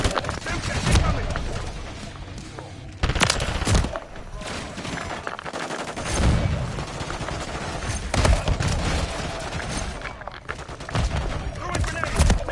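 Rapid gunfire crackles through a Call of Duty: Modern Warfare III match, with dense bursts and sharp single shots layered over one another, loud and close, while a voice calls out at times.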